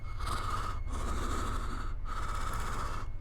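A voice imitates the deep, heavy breathing of a large hidden humanoid creature. Three long, raspy, even breaths sound close and steady, each separated by a brief pause, over a constant low rumble.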